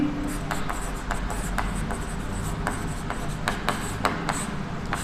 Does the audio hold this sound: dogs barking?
no